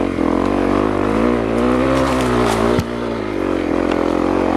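Honda CRF250L dual-sport dirt bike engine droning loud and steady while riding an off-road trail, with a sharp jolt partway through and the motor pulling on without pause.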